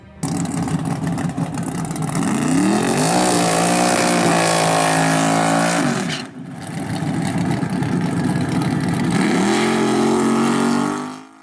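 A super stock drag race car engine revs hard while power braking, a loud continuous roar that rises and holds, dips briefly near the middle, then surges again and cuts off at the end, with no voices.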